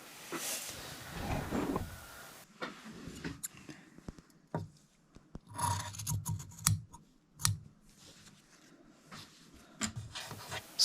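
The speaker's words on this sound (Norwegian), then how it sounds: "og der klipper vi nøyaktig." Scissors cut fabric strips at a sewing table, making a series of close, crisp snips and rubbing sounds in irregular bursts, with quiet pauses between the cuts.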